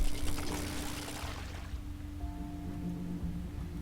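Pine cones dumped into water in the video game Quern make a rushing splash and pour that fades after a second or two into a low steady hum, close and alone.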